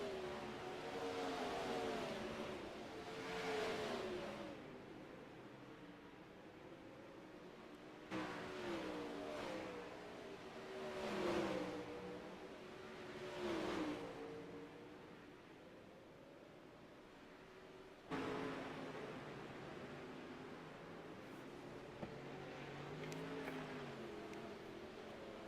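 Dirt race car engines in a sim racing game at Williams Grove drone steadily at moderate volume, their pitch swelling and falling in slow waves as the pack of cars runs together.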